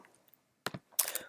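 A password is typed on a computer keyboard in a few quick, close key clicks with short pauses between them, ending in a brisker cluster of taps.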